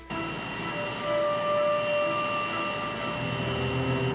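A plane's engines spool up at night for a takeoff attempt, a steady, loud droning roar with sustained whining tones that builds slightly and holds throughout.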